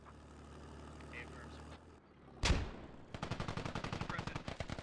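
Gunfire in the military video game Squad, with a sharp loud blast followed by a rapid, steady burst of automatic fire close by, over a background of vehicle rumble and voices talking.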